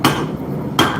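Two sharp hammer blows on 1/2 inch mild steel stock being tapered on an anvil with the rounding face of the hammer, one strike at the start and another near the end, each ringing on briefly between.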